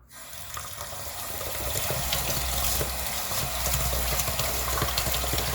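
Tap water runs steadily into a pot of rice for teriyaki pork with egg and garlic rice, a continuous close, moderately loud splashing rush that builds slightly as the pot fills, with no talking.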